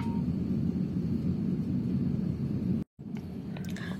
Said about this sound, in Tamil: ரன்வேக்கு நம்ம இப்போ டாக்ஸிவே வழியாக போயிட்டுருக்கோம்